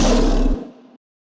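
A single lion roar sample bursts out loud and close with a deep, rough growl that cuts off its low end halfway and then fades into silence.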